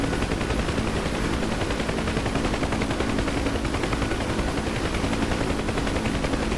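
Dense, rapid gunfire and a constant roaring rotor or engine drone in the DCS flight simulator, a loud, unbroken barrage around an OV-10 or Huey helicopter on a combat search and rescue mission.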